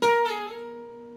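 An electric guitar note slides on the 2nd string between the 10th and 12th frets, a single bright picked note that rings on and fades over about a second.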